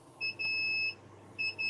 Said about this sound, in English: My alarm keeps going off, and then the fan's coming on, and then the alarm's going off.